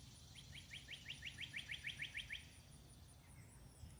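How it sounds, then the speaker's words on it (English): Outdoors in the morning, a single bird sings a quick, faint, distant trill of about a dozen evenly spaced chirps over soft background rumble, then quiet. "Those doves are right up there on the power lines or whatever they are."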